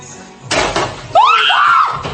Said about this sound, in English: The dude screamed louder than the woman, man.